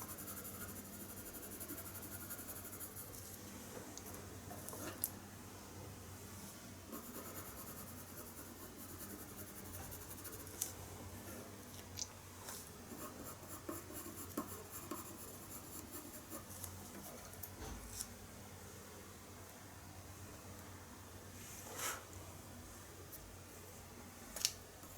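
Colored pencil glazing a layer of ivory over paper while shading light horse fur: faint, continuous soft scratching strokes with occasional slightly sharper taps, close and quiet throughout.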